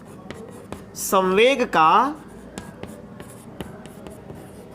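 Chalk or marker taps and scratches across a classroom board in short, crisp strokes, recurring steadily under a voice that speaks briefly in Hindi in the middle.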